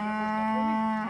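A Hereford or Longhorn cow on a Texas ranch lets out one steady, loud, sustained moo lasting about a second, close by and alone.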